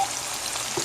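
Meat sautéing in hot fat with tomato paste for a mirliton (chayote) dish, a steady dense sizzle filling the short stretch with a slight swell near the end, no voices.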